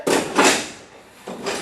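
A chair scrapes twice across a floor as it is pushed, two short rough grinding bursts close by separated by a brief pause, no talking.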